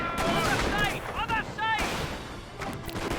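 Rifle volleys crackle back and forth between infantry squads in the Company of Heroes battle game, with repeated sharp shots and booms over a busy battlefield din, mixed with brief game voice chatter.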